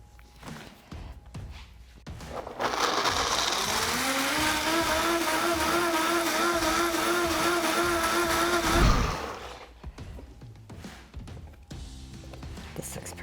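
A countertop blender whirs steadily for about six seconds, puréeing a thick cashew cheese sauce with nutritional yeast, loud and close, then spins down abruptly; quieter kitchen noise comes before and after.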